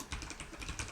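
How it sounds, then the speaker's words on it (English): Typing on a computer keyboard, a steady run of close keystrokes at an even pace with no talking. "here we can just go on typing"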